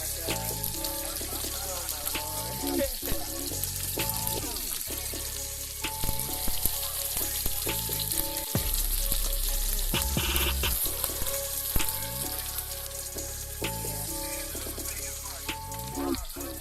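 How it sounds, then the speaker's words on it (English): Salmon sears skin-side down in a pan with a steady, dense sizzle throughout, broken by a few clicks and knocks of utensils nearby. "I seared the salmon on top as well, but then I cooked the rest of it on the skin"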